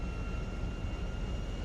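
An airplane engine in GTA V roars steadily as it accelerates for takeoff, a loud, even broadband drone with a faint steady whine on top.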